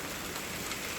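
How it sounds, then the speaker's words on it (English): Hail falls outdoors near a backyard chicken coop, a dense, continuous patter of small impacts covering everything, steady and loud throughout with no voices. "Wow, we have hail."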